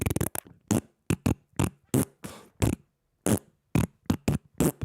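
A fart sound effect is played on a live stream as a rapid series of short, sharp, separate bursts with brief silences between them.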